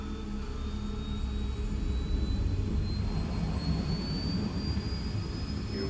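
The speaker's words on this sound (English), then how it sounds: "All this plane could do was take off, accelerate, and fly up." A jet plane in the video game Ace Combat 7 takes off and accelerates, a loud continuous engine roar with a deep rumble and a slowly rising whine, holding steady throughout.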